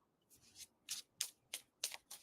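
Tarot cards riffled and shuffled by hand close up, six soft crisp bursts in a steady rhythm, quiet and alone with no talk.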